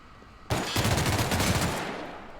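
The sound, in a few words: gunshots from a gun in video game The Outer Worlds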